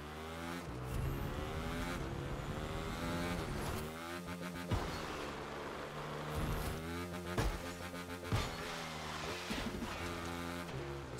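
A motorcycle in the racing game The Crew 2 revs hard and launches off a ramp, its engine whine climbing and dropping through gear shifts with sharp bursts, moderately loud and heard alone.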